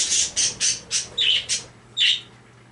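Pet birds squawk nearby in a series of about seven harsh, short bursts at an uneven rhythm, loud and unaccompanied by talking.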